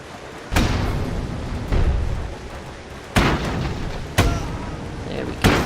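Airship bombs explode in the strategy game Airships: Conquer the Skies, a run of about five heavy, booming blasts, each a sharp onset that decays into rumbling noise, evenly spaced about a second apart.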